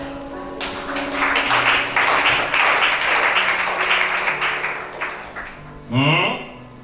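A church congregation at a worship service breaks into sustained applause for several seconds, dense and loud, with voices and music mixed in, then a sung voice rises near the end.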